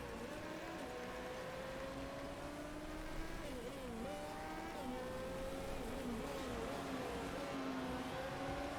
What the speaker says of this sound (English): Nice to see our orange cars out there on the track